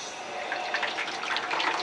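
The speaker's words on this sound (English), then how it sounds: "the cold water goes through one of the hoses, goes through the coil, and then out another hose" Cold water rushes steadily through a wort chiller hose and coil while homebrewing beer, a continuous splashing, hissing flow with small bubbling irregularities, close and moderately loud.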